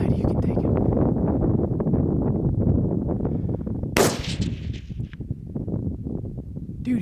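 A single sharp rifle shot cracks out midway through an antelope hunt on open Wyoming ground, striking a doe, set against a steady rush of wind and rustling.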